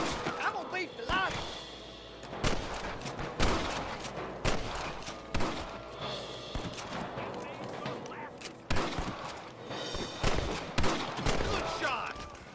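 Gunfire from Red Dead Redemption: scattered sharp shots and short volleys at irregular intervals, some loud and near, others softer, over outdoor game ambience with occasional voices.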